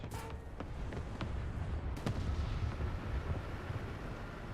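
Tank cannon fire in War Thunder: a few sharp booming shots early on, then a steady rumbling battle din of engines and distant fire.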